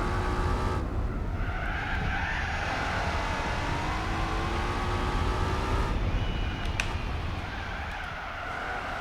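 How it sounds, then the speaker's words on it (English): A car in the Gran Turismo 4 video game spins its cold tyres in second gear, a loud sustained squeal over a roaring engine that shifts pitch as it goes, with no talking. "When your tires are cold in second gear, the car used to spin a lot."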